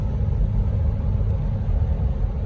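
A car cruising on a highway on a long drive from Corona, New Mexico, a steady low road rumble and engine drone heard from inside the cabin, with no talking.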